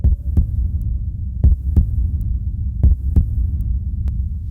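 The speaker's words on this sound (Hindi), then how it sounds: "धड़कन तेज हो गई है, वो आगे है।" A heartbeat sound effect from an action film throbs in low, heavy double thuds that repeat at an even pace over a steady hum, close and loud with no voices.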